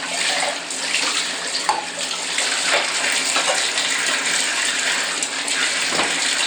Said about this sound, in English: so I'm gonna rinse these off